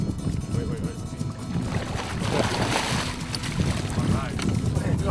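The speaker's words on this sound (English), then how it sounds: "And the wind's just pounding this spot." Strong wind buffets the microphone at a windswept fishing spot on the water, a loud, gusty rumble with the slap of choppy water, and someone talks over it much of the time.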